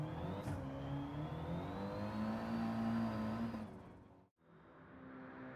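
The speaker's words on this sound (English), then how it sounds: "The Audi TT Cup is quite the fun vehicle." An Audi TT Cup '16 race car in Gran Turismo 7 drones steadily at high revs, then abruptly cuts out and comes back after a brief dip, heard up close with no talk.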